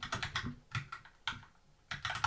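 Close, soft computer keyboard typing as the word trumpet is entered, several short clusters of key clicks with brief gaps between them, no talking.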